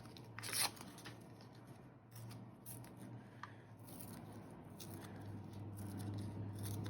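Paper torn out of a journal during Christmas journaling, with a sharp ripping burst near the start and then softer rubbing and shuffling of paper under a steady low hum.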